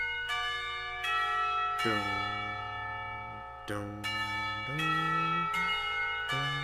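A school bell rings in the visual novel game Katawa Shoujo, a sustained chiming bell sequence with several struck tones ringing out and overlapping, steady and moderately loud throughout.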